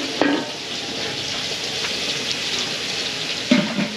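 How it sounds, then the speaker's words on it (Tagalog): Pork belly sizzles steadily in a hot pan, a continuous bright crackle with a couple of louder spits or stirs near the start and end, and no voices. "So ito mga belly, piprituhin lang natin."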